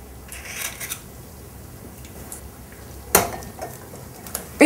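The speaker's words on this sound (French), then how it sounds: "Nous allons séparer les blancs des jaunes." Egg whites being separated from yolks into bowls, with a few light clinks and taps against dishes, one sharp knock of shell on a bowl edge, in a quiet kitchen with no talk.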